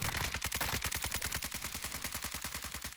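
Sustained automatic gunfire in the video game Warzone 2, a rapid, loud, even burst of shots running the whole time with no talking.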